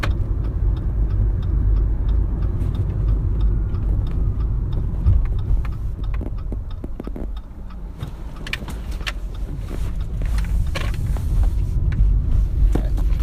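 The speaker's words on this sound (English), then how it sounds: "Driving with some curvy roads." A car drives along winding roads, its steady low road rumble and engine noise filling the cabin throughout, with small clicks and rattles now and then.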